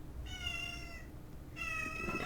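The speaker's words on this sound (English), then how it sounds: "so my cat wanted to go out" A house cat meows twice, wanting to be let outside; each call is clear and drawn out, with a short pause between them over a faint steady room hum.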